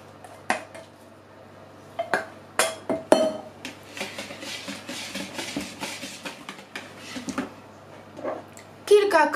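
A utensil gently stirs grated cheese into an egg mixture in a bowl for a homemade cheesecake, giving irregular light clinks and scrapes against the dish, with someone talking over much of it.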